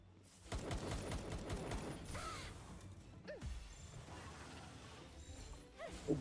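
Video game gunfire crackles in dense, rapid bursts near the start, then thins into scattered shots and mechanical clicks and clatters, fairly close and loud, with no voices.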